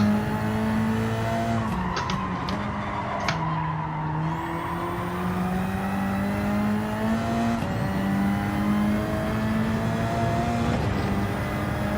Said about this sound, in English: Wheel spin's not going to help.